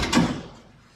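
A car door on a 1969 Boss 429 Mustang under restoration swings shut with a single solid close, a close thud that fades quickly into quiet.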